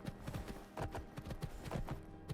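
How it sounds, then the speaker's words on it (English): Skyrim horse hooves drum in a fast, galloping rhythm of dull, close thuds, steady and fairly faint, with no voices. "joyride around on this horse and kill some stuff"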